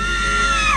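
A voice imitates a loud, piercing scream, one sustained high cry whose pitch slides downward at the end, recalling a shout heard in a dark forest at night.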